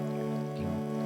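A sustained harmonic pad from the Excite Audio Evolve synthesizer carries a crisp dripping texture, with a brief thicker swell midway through about one second of steady, even sound and no talking.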